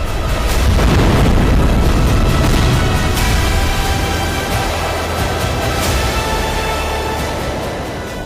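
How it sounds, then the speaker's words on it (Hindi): Russian missile strikes on a Ukrainian weapons depot in Sumy produce a heavy booming blast that rolls into a long, loud, deep rumble, slowly fading over several seconds. "रूस यहां मिसाइलों से यूक्रेन के हथियार गोदाम को"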